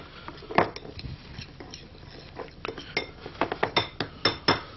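A utensil mixes ingredients with salt in a bowl, giving close, irregular clinks and scrapes against the dish that come faster and louder toward the end; no one speaks.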